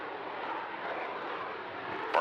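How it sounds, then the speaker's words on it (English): A Boeing Super Hornet jet makes a slow, high-angle-of-attack pass at low airspeed, a broad, steady distant engine roar holding throughout, with a short sharp clatter at the very end. "very comfortable 30-degree angle of attack high alpha pass is flown as low as 105 knots"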